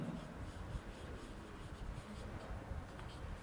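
Faint scratchy rubbing of writing on a board during a chemistry lesson, soft continuous strokes in a quiet room.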